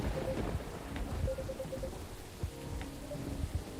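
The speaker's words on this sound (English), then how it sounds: "Aside from the thunder outside, that is." Steady rain patters throughout a stormy night in the video game Coffee Talk, with low thunder rumbles rolling underneath and a faint tonal hum; no speech.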